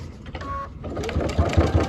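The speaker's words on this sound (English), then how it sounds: "Stitch our bias tape down." Sewing machine stitching bias tape down over clear vinyl for a teacher apron, a steady rapid mechanical chatter of the needle that grows louder toward the end, with low thumping pulses near the close.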